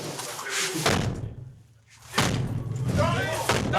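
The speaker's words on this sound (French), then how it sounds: "On va casser la porte." Police battering ram striking an apartment door during a drug squad raid: heavy dull thuds and rattling impacts, with people talking over and between the blows, a brief quieter gap in the middle.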